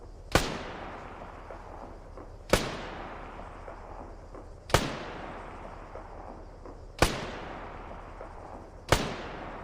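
Five sharp gunshots from the Arma 3 video game ring out at steady intervals about two seconds apart, each loud crack followed by a long, rolling echoing decay, with no voices.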